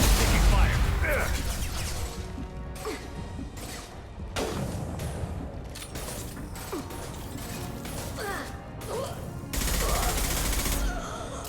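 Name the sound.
gunfire in the video game Mass Effect 2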